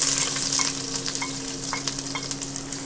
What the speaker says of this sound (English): the oil's nice and hot in the pan. I'll add in the red onion and the garlic first